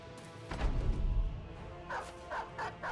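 Dog barking in a video game, a few short barks and yips heard moderately faint over a low background rumble, with no talking.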